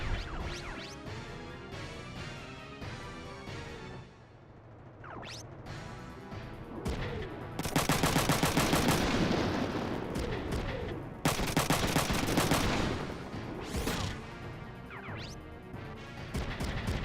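Gunfire from the mech combat game Front Mission 3: loud bursts of rapid shots and crashing impacts, with two long dense volleys in the middle and scattered smashes before and after, over a steady game-sound background.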